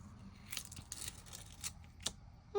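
Glimmered hot foil in opaque black and white is gently peeled off a die-cut card, giving quiet, scattered crinkly crackles and soft tearing bursts, with a brief brighter tone at the very end.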